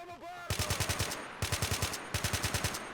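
AK rifles fire in modded Men of War: Assault Squad 2, three rapid full-auto bursts of sharp cracks, each about eight to ten shots, loud and close with brief pauses between bursts.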